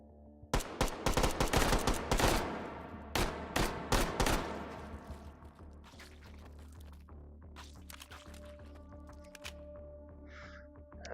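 A small 9mm AR platform rifle fires in the VR shooter H3VR: a rapid burst of sharp, loud gunshots over the first few seconds, then scattered clinks and lighter mechanical handling sounds.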